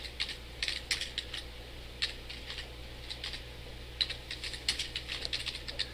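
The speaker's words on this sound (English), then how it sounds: "let's type in a phrase" Someone types a phrase on a computer keyboard, with irregular bursts of quiet, close clicking keystrokes over a low steady hum and no talk.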